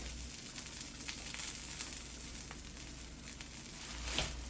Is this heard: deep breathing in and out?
no